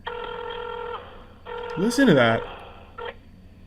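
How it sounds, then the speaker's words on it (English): An old rotary phone dials inside a dungeon-like horror video game, with tonal ringing bursts and a warbling, sliding electronic tone, and a voice briefly speaking over it. "That sounds like I'm dialing an old rotary phone."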